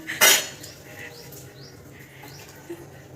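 Dishes and a spoon clink as yogurt (doi) is served at a Bengali family meal, starting with one sharp clatter followed by lighter scattered taps and faint background voices.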